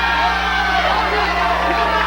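A wrestling arena crowd cheers and roars in a dense, sustained wash of voices, loud and steady throughout, with a low electrical hum beneath.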